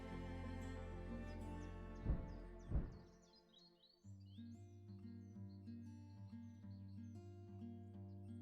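European bee-eater call in the Wingspan digital board game: soft, faint chirping notes flutter over a quiet music bed, with a couple of brief thumps early and a low tonal shift midway.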